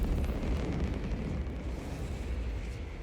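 A loud, sustained explosion in Warhammer 40,000: Space Marine 2, a thick roaring rumble that fills the whole stretch and stays heavy without a clear tail.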